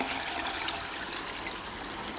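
Running water at a garden centre water feature, a steady soft wash of splashing and trickling that carries on without break, fairly faint and alone.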